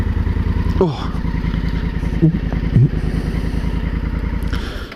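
Honda Africa Twin motorcycle engine idling steadily close by, a loud continuous throb with some clatter, and someone briefly speaks over it.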